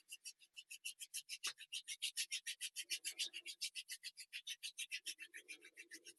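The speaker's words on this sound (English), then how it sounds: "So the last one, kind of rub your hands together. Rub, rub, rub, rub, rub. You should be able to hear them." Hands rubbing briskly together close to the microphone, producing a steady rhythmic swish of about eight strokes per second, dry and crisp, continuing alone throughout.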